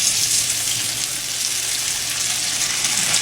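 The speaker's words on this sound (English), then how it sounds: "I'm going to put it on the stove and fry it" Food frying in hot grease on a stove, a steady loud sizzle and crackle that runs unbroken throughout with no talking.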